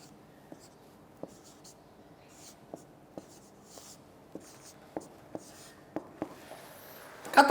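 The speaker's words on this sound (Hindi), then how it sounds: "मैं लिख भी देता हूँ आप बच्चों के लिए" Chalk or marker strokes tap and scratch on a classroom board during an English lecture, a dozen short, fairly quiet ticks at an uneven pace, ending in a louder burst of rubbing.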